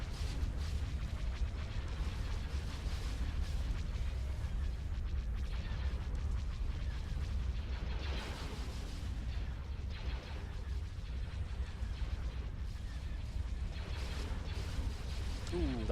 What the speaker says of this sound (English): that's a lot of bomber strikes going in